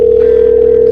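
A steady, loud, unbroken telephone dial tone hums during a call placed through Google Voice.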